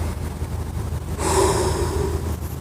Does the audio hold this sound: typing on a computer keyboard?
no